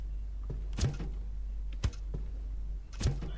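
Soft barefoot steps pad across a floor in a horror video game, three muffled thumps spaced about a second apart over a steady low hum.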